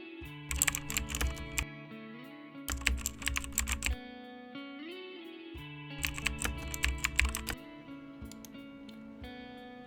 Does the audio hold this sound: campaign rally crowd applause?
no